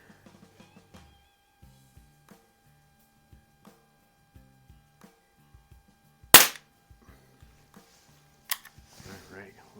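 A 1960s Crosman 147 or 760 .177 pump air rifle fires one sharp, loud crack up close, then a fainter knock, amid light intermittent clicks and handling noises.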